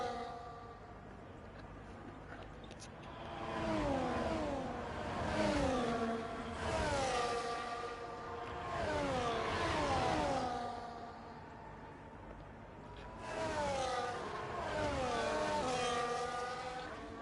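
Race cars in the F1 24 video game scream down a straight at the Italy circuit, several engines rising and falling in pitch as they pass one after another, loud and continuous with repeated sweeping waves.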